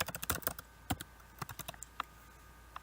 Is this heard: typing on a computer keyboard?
yes